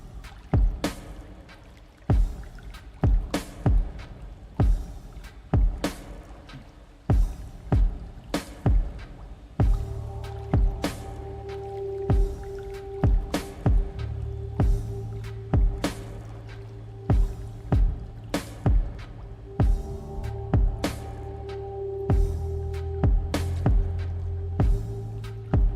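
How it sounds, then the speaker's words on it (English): Water running and dripping in a cave, with steady, evenly spaced drops and splashes throughout, and low sustained musical tones joining about halfway through. "A little bit of water running in the background."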